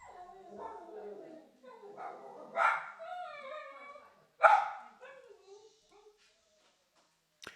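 A household dog, upset by someone at the front door, barks and yelps in a few sharp bursts indoors, with a voice talking between and over the barks.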